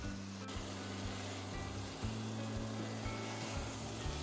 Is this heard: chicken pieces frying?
yes